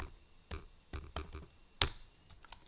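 Typing on a computer keyboard at a Linux terminal: a handful of crisp, separate key clicks in an uneven rhythm, close and clear with quiet gaps between strokes.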